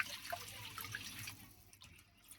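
Water, about 1.5 litres, poured into a soup pot, a soft close splashing and trickle that thins out toward the end, faint and alone.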